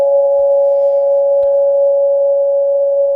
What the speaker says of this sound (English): Two frequencies at a certain ratio are played in the ear, and the inner ear will produce a third frequency, also known as the Tartini tone